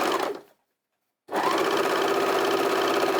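An overlocker sewing machine running a 3-thread stitch whirs briefly, stops for a moment of silence, then restarts into a steady, loud, rapid mechanical buzz up close.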